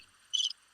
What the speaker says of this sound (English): Cricket.